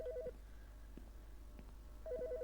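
A telephone in the Autopsy Simulator video game gives two short bursts of electronic ringing tone separated by a pause, faint and alone over a low hum.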